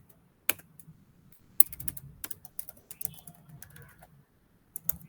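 Someone typing code on a computer keyboard, quick irregular key clicks in short bursts with a few sharper louder strikes, close and fairly quiet.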